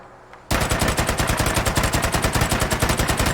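Rapid automatic fire from the ASM1 submachine gun in Fallout 4, a loud, evenly pulsing burst that starts abruptly and keeps hammering steadily to the end.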